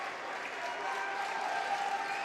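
Crowd noise swelling near halftime of a men's college basketball game between Elmhurst College and North Central College at R.A. Faganell Hall, a steady broad roar of cheering and applause with no clear breaks across the whole stretch.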